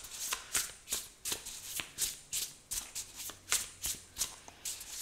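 Tarot cards are shuffled by hand in a quiet room, a steady run of crisp riffling bursts repeating about every half second, close and clear with no talking.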